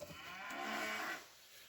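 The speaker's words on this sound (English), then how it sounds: "Sorry about the cows in the background there mooing away" Cows moo faintly in the background on a farm, one drawn-out low call swelling and fading.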